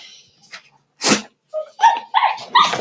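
A big, goofy dog named Gunner snorting and huffing close by, with a sharp sneeze-like burst and several short, gruff vocal bursts toward the end, between quiet gaps.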